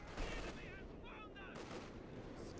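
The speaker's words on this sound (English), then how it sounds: "the machine gun is coming" Machine gun fire in a WWII-style real-time strategy tournament match, dense continuous rattling bursts filling the mix with other battle noise and a sweeping whistle, all under constant loud background.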